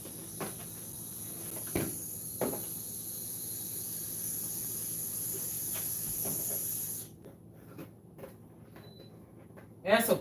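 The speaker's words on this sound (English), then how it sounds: "You see the pressure cooker is starting to work. It's starting to cook. The steam is coming out the back." Steam hisses steadily and loudly from the back of an electric pressure cooker for about seven seconds, then cuts off abruptly, leaving a quieter background with a few soft knocks and a brief rustle at the end.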